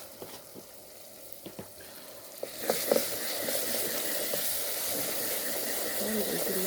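Ethiopian black spice mix of fenugreek, korarima and black cumin toasts in a pan for pasta: faint scattered crackles at first, then a louder, continuous sizzle and hiss that holds steady.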